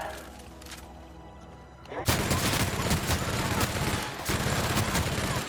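Rapid bursts of gunfire from a new gun in The Outer Worlds video game, loud and dense after a brief quieter lead-in, with a short gap before firing resumes.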